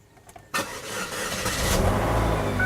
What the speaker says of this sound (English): Now I'm going to get in there and start this car